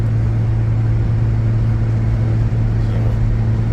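Truck engine humming steadily while driving along the road, a loud, constant low drone with stable tonal bands and cabin rumble, no talk over it.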